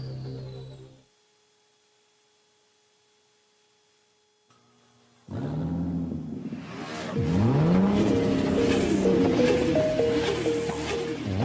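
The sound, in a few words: car engines revving in a fuel station advert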